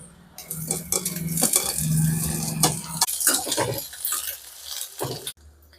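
Carrot and tomato fry with curry leaves in a pan for homemade Maggi noodles, as a utensil scrapes and stirs with clinks against the metal over a soft sizzle, close and fairly loud, ending abruptly.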